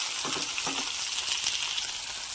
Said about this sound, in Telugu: ముందుగా కట్ చేసుకున్న క్యాప్సికమ్ వీటిని వేయించుకోవాలి.